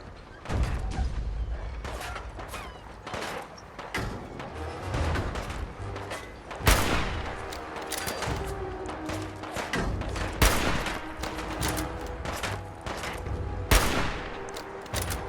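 Rapid gunfire in Fallout 4, loud bursts and sustained volleys with sharp cracks, dense and continuous throughout with heavy low-end booms.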